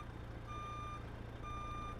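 A truck's reversing alarm in American Truck Simulator gives two steady, evenly spaced electronic beeps over a low, constant engine drone.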